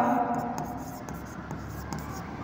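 Pen or marker scratches steadily across paper or a board during a Marathi accounting lesson, close and continuous in short strokes, with a voice talking faintly at times.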